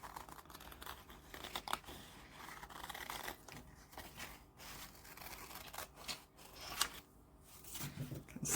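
Scissors cut paper for a junk journal, a quiet run of snips and rustles near at hand, with paper handling sounds in between.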